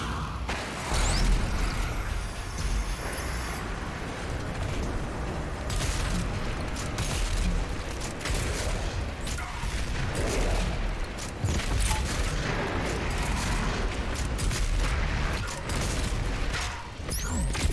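Sustained, dense barrage of heavy weapon fire and booming blasts in Doom Eternal, loud and continuous for the whole stretch with mechanical clanks throughout, including the BFG.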